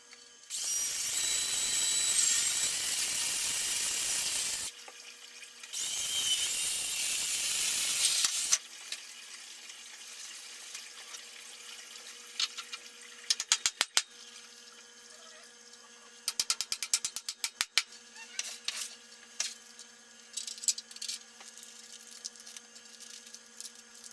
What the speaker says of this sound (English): Get some holes drilled